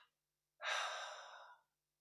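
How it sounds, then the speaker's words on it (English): A long breath pushed out through the nostrils during a guided breathing exercise: a single close, steady airy exhale of about a second after a brief earlier puff, alone in quiet. "Now turn your head to the left and exhale twice."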